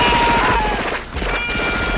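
Rapid automatic gunfire from a film scene aimed at a transparent alien monster in a jungle, a loud dense burst of shots with a brief lull near the middle before the firing resumes.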